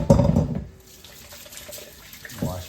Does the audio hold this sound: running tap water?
yes